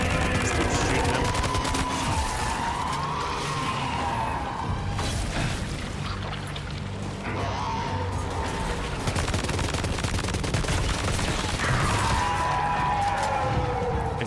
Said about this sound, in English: I should just constantly be shooting this guy